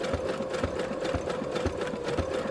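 A small sewing machine runs a satin stitch with variegated thread, a steady rapid mechanical rattle with regular needle thumps, close and alone.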